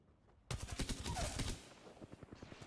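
Rapid automatic gunfire in the video game Apex Legends during a ranked match, a dense burst of fast shots that later thins into quieter, more distant popping.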